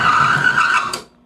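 An engine run without oil as its metal bearings seize, a loud harsh grinding screech that holds steady for about a second, then cuts off abruptly into near silence.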